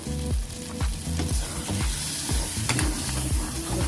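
Oil frying hard in a pan for a stuffed brinjal curry, a loud close sizzle with rhythmic scraping and stirring strokes repeating about twice a second.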